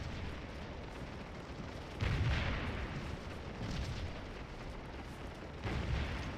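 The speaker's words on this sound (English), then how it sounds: "Taking some nasty canister fire here." Canister cannon fire across a Civil War-era battlefield in the Scourge of War video game: a steady roar of distant volleys and booms, with heavier blasts surging at intervals over continuous rumbling battle noise.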